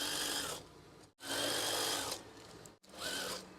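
A sewing machine stitches fabric for a swag curtain in three loud, steady bursts, each running about a second, split by short pauses.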